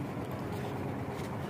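Motorized jukung boats at Palembang's 16 Ilir harbor give off a steady low engine drone over rushing water and wind, moderately near and continuous.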